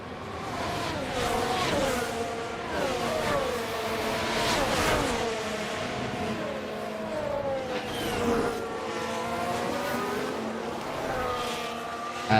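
Formula 1 race cars lap Imola in the F1 Manager 2024 game, several high-pitched engines whining and shifting through gears, rising and falling steadily as cars pass, no voices.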